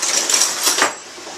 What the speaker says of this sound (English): use a spoon to scrape everything out, get as much as possible in there